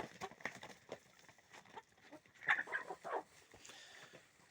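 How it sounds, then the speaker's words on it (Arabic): Chickens and a rooster cluck and call on a Moroccan farmyard, a scatter of short, fairly quiet bird calls with a louder cluster midway, over soft background rustle. "ها هو ديك، ها هو اجي السي ديك"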